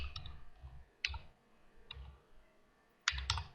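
Keys on a computer keyboard tapped in a few short, separate bursts of clicks, typing a search in Unreal Engine 5. The clicks are quiet and close, with pauses between the bursts and no talking.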